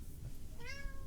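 A house cat lets out a single rising meow that drifts upward and fades, asking to be let out, heard close but quiet over a steady background hum.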